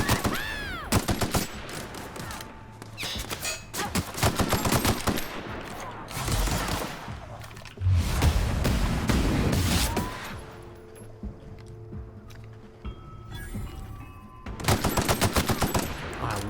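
Rapid automatic gunfire in The Outer Worlds fires in long, loud bursts of dense shots with brief gaps and a few sharp single blasts, all close.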